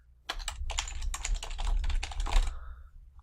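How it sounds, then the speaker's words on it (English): Quick, close computer keyboard typing fills the stretch as a name and email address are entered into a web form: a steady run of light key clicks with brief pauses, ending in a soft trailing tone. "I'd fill out my name. I'd put my email address in there"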